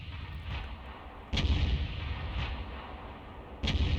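Artillery from an M53/M55 self-propelled gun in a tank video game booms in two heavy, deep blasts a couple of seconds apart, with rumbling tails over low engine noise.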